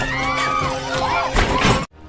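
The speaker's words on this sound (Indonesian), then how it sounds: "tiba-tiba datang emaknya serangga tersebut dan menghantam kaca hingga hancur" A giant insect smashes a shop window, a loud crashing shatter over dense, swelling movie-style sound effects, ending with an abrupt drop to quiet.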